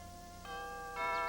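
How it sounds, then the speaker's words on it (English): A mansion doorbell chimes in a bright ding-dong pattern, two rising tones ringing out clearly and sustaining, with no voices over it. "I shall ring the bell"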